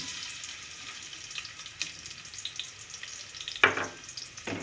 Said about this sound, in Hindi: अब इसमें मैं ये प्याज डाल रही हूँ